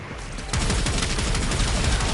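Gunfire in Warframe, starting after a brief quiet moment and continuing as a dense, rapid volley of loud, close shots with no talk over it.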